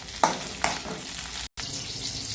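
Green chillies hit two tablespoons of hot oil in a pan and fry with a steady crackling sizzle, two sharp pops near the start, then a brief stir-like break before the frying resumes.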